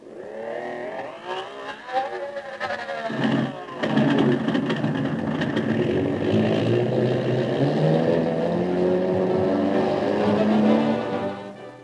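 A propeller airplane engine coughs, sputters and then catches into a rising, sustained drone, staged as a sound effect for an old-time radio drama about a round-the-world solo flyer, steady and fairly close with no voices.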